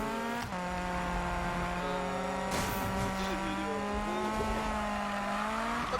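Engine of the most powerful car in Need for Speed 2016 racing, a loud sustained high rev holding steady and rising at the end, with a brief sharp burst of tire noise partway through.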